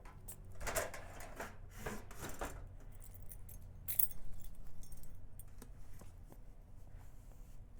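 A ring of keys jangles and clinks close by in irregular bursts, loudest near the start and again midway, then fading to lighter rattles and small metallic taps in a quiet room.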